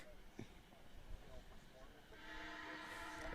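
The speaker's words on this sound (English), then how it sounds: "There goes the train through the middle of campus." A train rolls through a college campus beside a baseball field, a distant low rumble that swells into a broader, louder roar over the last second or so, with voices murmuring faintly underneath.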